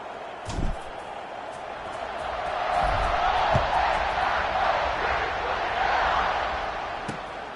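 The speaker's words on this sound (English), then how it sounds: "this crowd is buzzing after that last score" A football stadium crowd buzzes after a score in a Northwestern game, a broad, sustained roar that swells and holds for several seconds, with a few sharp thuds and no clear speech on top.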